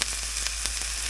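Steady close sizzle of a frozen Members Mark Angus beef patty cooking in a pan, with small pops and scrapes scattered through it and no talking.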